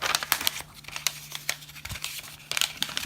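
A paper map folded by hand, crinkling and rustling up close in short bursts with soft creases, no voices.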